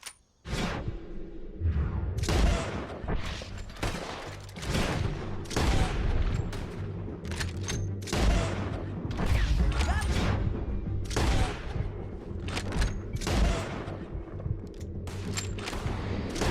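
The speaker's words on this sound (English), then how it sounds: "Let's just start shooting." Rapid bursts of gunfire from a Red Dead Redemption 2 shootout crack out loud and repeatedly, with sharp overlapping shots and whooshes throughout and little talk.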